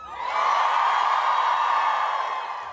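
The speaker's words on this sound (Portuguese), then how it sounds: "sim, uma multidão." A large crowd of climate protesters in Australia roars and cheers, a dense sustained wash of many voices that rises and holds before easing slightly.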